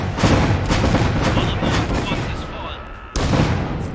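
Heavy gunfire and booming artillery in the Iron Harvest battle game, a dense loud barrage of overlapping blasts and rumbling impacts with a fresh burst near the end.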